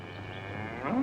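A single cow lets out a low moo that rises and swells toward the end, fairly close and clear over a faint steady background hum, with no talking.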